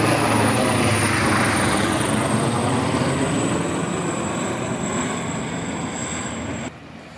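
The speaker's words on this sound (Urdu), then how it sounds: "یہ دیکھیں یہ امداد کے لیے ہیلی کاپٹر جا رہے ہیں" Helicopter flying relief missions over floodwater after a storm in Oman, a loud sustained rotor and engine roar that fades slightly, then cuts off abruptly near the end.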